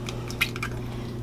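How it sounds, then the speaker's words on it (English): Applesauce plopping into a mixing bowl of sugar while baking an apple recipe, a brief soft wet squish near the start over a steady low background hum. "There's our applesauce"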